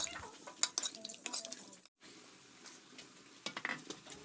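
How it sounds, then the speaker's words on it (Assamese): A fish head simmering in spiced masala with a little water, stirred in a pot: a low sizzle under scattered utensil scrapes and clinks, with a brief quiet gap midway. "মাছৰ মূৰ দি অলপ পানী দি এতিয়া আকৌ কচুৱাই লম"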